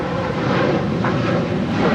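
A United Airlines Boeing 737-900ER departs Los Angeles International Airport bound for Denver, its jet engines giving a loud, steady broadband roar that holds evenly throughout.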